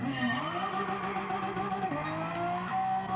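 Renault Megane Gr.4 race car in Gran Turismo 7 on a one-lap attack, its engine note rising and dropping through gear changes with tire squeal, loud and continuous with no talking.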